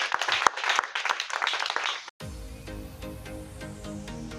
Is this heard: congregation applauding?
yes